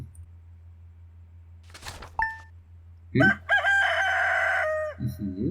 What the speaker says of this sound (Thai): เสียงไก่ ดังดีดังเลย